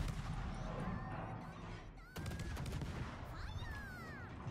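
Ship guns firing blind during a naval video game battle: dense rolling bursts of gunfire and booms over a constant loud engine-like rumble, with a brief dip before the barrage resumes.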